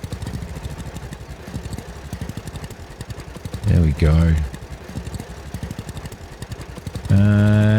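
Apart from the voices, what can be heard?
tractor engine running in video game Farmer's Dynasty 2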